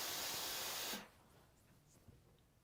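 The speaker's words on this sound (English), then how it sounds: "What you can do is blast it with steam." A steam iron blasts a loud hissing burst of steam onto fabric for about a second, then cuts off abruptly, leaving quiet room tone with a faint knock.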